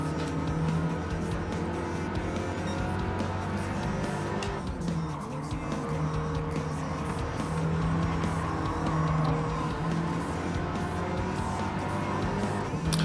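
A race car in Gran Turismo 7 accelerates hard and continuously, its engine note loud and close, climbing and dropping through gear changes, with brief tire squeal along the way.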